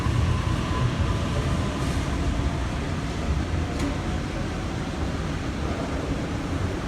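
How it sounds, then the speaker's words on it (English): A Sydney train pulls away from a platform at Parramatta station, a steady loud rumble of wheels and motors holding throughout with a faint hiss above, close by and with no talking over it. "A20 is now departing on platform number 1"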